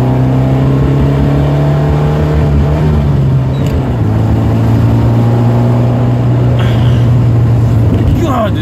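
An Alfa Romeo Alfetta's engine drones and revs from inside the cabin while accelerating, a loud low growl climbing and settling with the gear changes, a voice talking over it.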